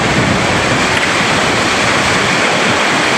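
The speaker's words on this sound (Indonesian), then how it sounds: "Arus deras banjir bandang akibat hujan yang mengguyur hampir seluruh wilayah Bali" A flash flood river in Bali rushes past, swollen by heavy rain, making a loud, dense, continuous roar of churning water up close with no voices.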